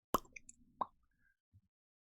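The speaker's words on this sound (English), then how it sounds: "And he pops the cork off." A cork pops off a wine bottle with a crisp, faint plop, followed by a second softer pop and a quiet low thud moments later, with no talking over it.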